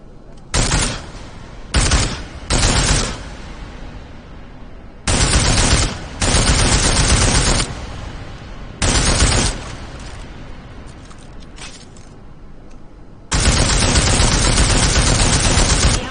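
Bursts of automatic gunfire from the Deus Ex video game, several loud sustained volleys separated by short pauses, with one long final burst.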